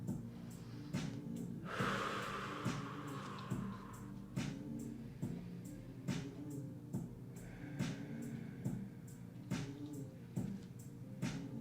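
Deep yoga breathing in and out during a vinyasa class, heard as soft airy breaths with a longer rushing exhale over steady low background hum and repeated faint clicks. No one speaks.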